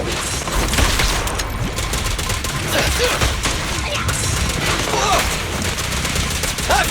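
Rapid gunfire in the video game Zenless Zone Zero, a dense, loud barrage of shots and impacts with game effects layered throughout.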